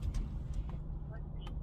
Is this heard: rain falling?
no